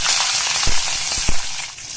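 Vertically slit green chillies fry in hot oil with curry leaves for a puri curry, a loud, close, continuous sizzle broken by a few sharp pops and spatters, with no talking.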